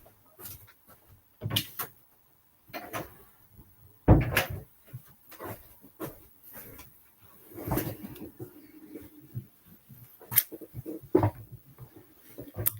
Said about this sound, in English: I'm going to shut my door